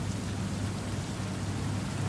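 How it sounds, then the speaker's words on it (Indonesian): Steady rain falling outdoors, a dense even hiss with low rumbling undertone, continuous and fairly close, no voices. "Hujan ya guys. Hujan."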